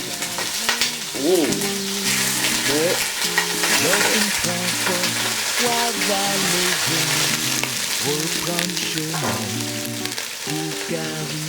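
Rice frying in hot oil for Haitian rice, a loud continuous sizzle with crackling spatter, close by, while a voice talks in a sing-song way over it and briefly exclaims.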